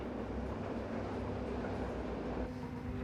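An underground train runs through the Maginot Line tunnels at Hackenberg, a steady rumbling roll with a faint whine, continuous and moderately loud, with no voices.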